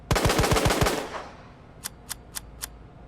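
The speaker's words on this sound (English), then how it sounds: "So first I'll rapid fire it." A handgun in Resident Evil 2 Remake fires six rapid, loud shots in quick succession with a ringing tail, followed by four sharp, evenly spaced metallic clicks.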